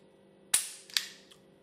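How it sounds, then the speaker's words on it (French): A Walther P99 pistol's trigger gives two sharp, crisp clicks about half a second apart, close and isolated against a faint hum. "Vous avez entendu un petit clic, ce qui vous permet à vous de contrôler votre départ de détente"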